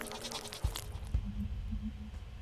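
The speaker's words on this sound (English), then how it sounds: "What the hell was that? Ghost goat, apparently." A ghost goat in the video game Sally Face bleating, a short wavering bleat over a low ambient drone, punctuated by a couple of dull thuds, with no talking.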